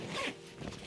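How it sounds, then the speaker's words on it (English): A zipper on a travel compression cube gives a quick, quiet pull, a short soft rasp lasting under a second. "there's the zipper"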